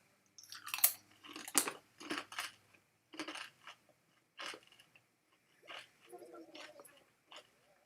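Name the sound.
eating crunchy snacks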